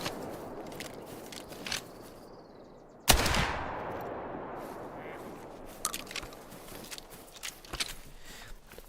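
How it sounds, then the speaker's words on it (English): A single loud shotgun blast fires in a video game at about three seconds, with a long decaying tail, amid a busy bed of background game noise and small clicks and rustles. "Don't like this shotgun."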